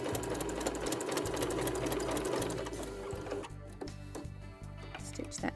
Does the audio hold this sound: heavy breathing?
no